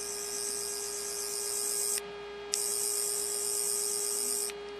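A Doctor Who sonic screwdriver toy gives off a steady electronic hum with a high whine. The tone cuts out briefly twice and then resumes. It is heard alone, with no talking.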